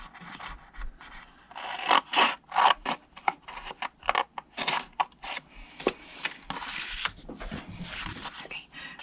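Scissors cut cardstock along a score line in short, crisp snips and scrapes, close and fairly quiet, with irregular pauses between cuts.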